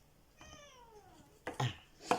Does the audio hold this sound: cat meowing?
yes